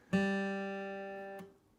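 A single guitar note rings on the open G string, plucked cleanly, sustaining with a slow fade before being damped, alone with no talking.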